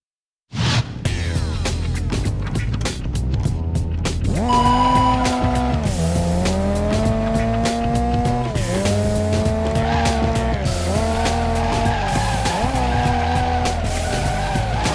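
In the PS2 game Professional Drift: D1 Grand Prix Series, a race car drifts with loud continuous tire squeal over a revving engine whose pitch rises and falls through the slide, sustained throughout.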